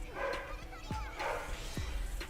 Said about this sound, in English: Dogs are freaking out. It's probably Postman coming up.